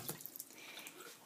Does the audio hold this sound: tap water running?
yes